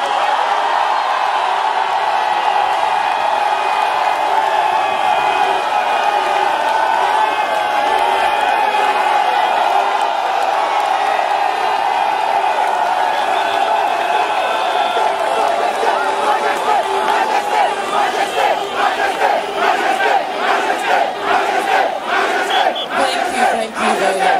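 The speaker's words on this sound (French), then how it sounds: "Applaudissons pour Sa Majesté Bilbois Réfera" A large crowd at a Paris gathering roars and cheers loudly and continuously, with rhythmic clapping building toward the end.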